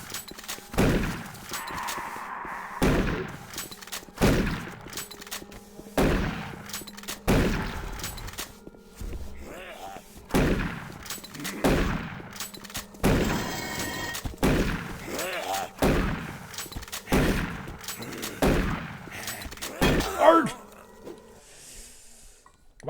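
Shotgun blasts in Doom 3 land at a steady spaced rhythm, each a loud, close boom with a short decaying tail, mixed with growling monster noises and brief bits of speech between shots.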